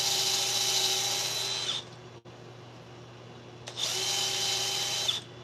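Sanding a wooden bowl on a lathe, a high whirring hiss of abrasive on spinning wood that stops for a couple of seconds, with a brief thump, then resumes before cutting out.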